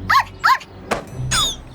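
A dog barking in an animated cartoon: two sharp yapping barks in quick succession, followed by a brief thud and a higher whining yelp, close and clear with no talk over it.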